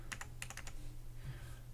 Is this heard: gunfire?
no